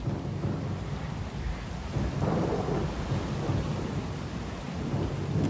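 A thunderstorm at sea rumbles on in the fantasy game Pillars of Eternity II: Deadfire. Heavy rain hisses throughout, and a low roll of thunder swells near the middle with no voices.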